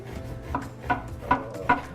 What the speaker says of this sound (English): So we're ready to slice our bread.